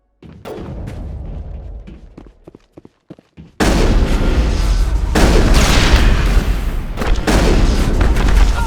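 Gunfire in Mass Effect: a run of sharp separate shots and booms, then a sudden louder stretch of dense, continuous firing and blasts up close.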